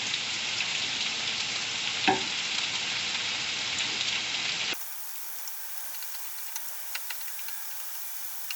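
Meat sizzles in a frying pan with a steady close hiss, one brief louder crackle, then the frying turns quieter and thinner with scattered small pops and ticks.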